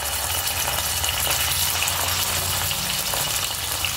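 Masala spice frying in hot oil for Khandeshi pudachi patodi, a loud, dense, steady sizzle that hisses continuously without pause.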